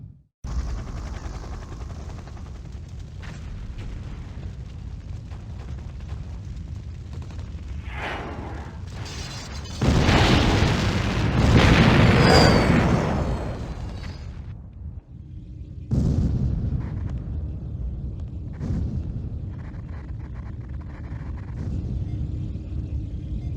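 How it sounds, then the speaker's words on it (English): Explosions blow up a temple in the 1996 Command & Conquer: The Covert Operations game, heavy rumbling booms and blasts rolling continuously, peaking in a loud sustained eruption midway, then settling into lower rumbling. "The temple's been blown all to hell."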